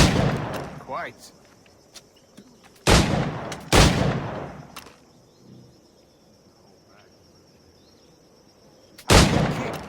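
Gunfire in the pirate video game Assassin's Creed 4 Black Flag: a few sharp, loud shots scattered across the stretch, separated by quiet game ambience with insect-like chirping, and a brief spoken word near the start.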